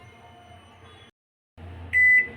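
A microwave oven being set to preheat gives a short electronic beep, clear and close, after a quiet hum and a moment of silence in a home kitchen.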